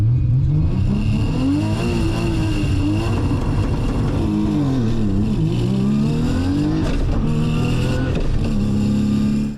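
An Australian Nissan GT-R launches again on adjusted launch control, its engine roaring loud and continuous with rising and falling revs through the whole stretch, close up.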